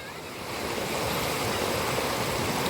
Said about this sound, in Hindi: तो ये नदी पार इस प्रकार करनी पड़ती है हमें।